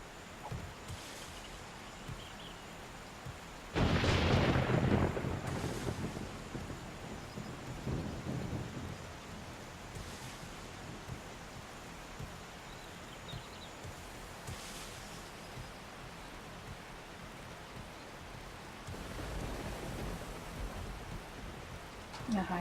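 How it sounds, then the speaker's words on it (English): Rain hisses steadily in a 7 Days to Die storm, with a loud thunder crack near the start and softer rumbles later, while someone talks faintly underneath. "Ugh, I hate storms."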